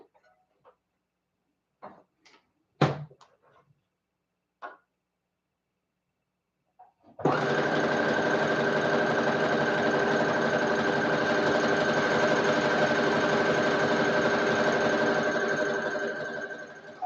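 Several scattered clicks and taps, then a sewing machine starts up and runs continuously at a fast, even hum while sewing a stretch stitch on a dress, loud and close.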